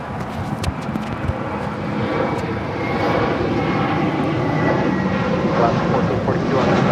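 Volaris Airbus A321 jet departing Los Angeles International Airport, a steady broadband engine roar that builds and holds loud across the whole stretch, with faint background noise mixed in.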